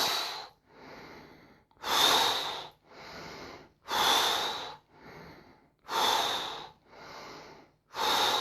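Slow, deliberate breaths during a guided bio-energetic active meditation exercise: loud airy inhales alternate with softer exhales in a steady rhythm, about eight breaths in all, close to the microphone with no talking.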